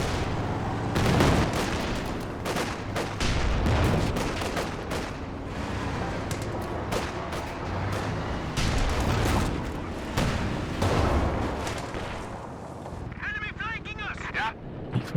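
Katyusha rocket artillery barrage in Company of Heroes 2, a string of booming impacts and crackling blasts layered over other battle noise, with a commentator talking throughout.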